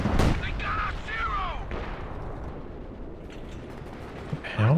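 Howitzer artillery fire in the Company of Heroes 2 battlefield, a heavy boom at the start followed by rumbling gunfire and a second blast at the end, under a voice talking through the middle.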